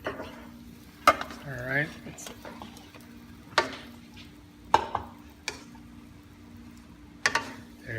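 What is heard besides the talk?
stirring pansit bihon noodles and vegetables in a pan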